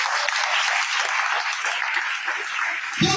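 A church congregation bursts into sustained, dense applause for the Lord, with hands clapping steadily from many people throughout and a brief low thump near the end.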